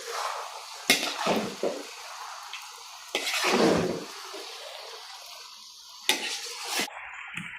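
Kuey teow goreng noodles are stirred and tossed in a pan, with several bursts of wet scraping and sizzling separated by quieter stretches, close up and steady.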